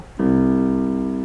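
The lowest key of a The One digital piano struck once and left to ring, clean and undistorted, sustained with rich harmonics, slowly fading over about a second.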